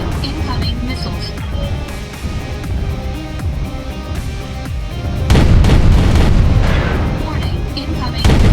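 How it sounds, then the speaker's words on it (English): Missile impacts and explosions thunder through a MechWarrior Online battle, with a dense, loud bed of weapons fire and booms that swells into a heavier blast burst midway and again at the end, over constant game noise. "Warning, incoming missiles."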